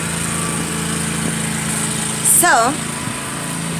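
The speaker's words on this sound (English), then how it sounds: "now they're mowing the lawn next door" A lawn mower runs steadily next door, a constant engine drone carrying through the whole stretch at moderate distance, while a person speaks briefly over it.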